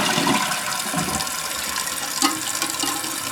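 A household toilet flushes during a flush lever replacement, a steady rush of water filling the clip close by, with a brief clunk near the middle.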